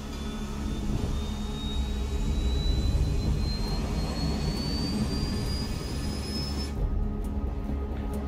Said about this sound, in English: All this plane could do was take off, accelerate, and fly up.